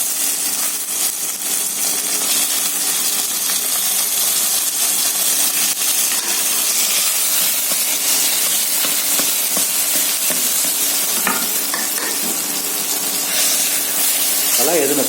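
Roasted brinjal drops into hot oil tempered with asafoetida and curry leaves, giving a loud, continuous close sizzle and crackle that holds steady throughout.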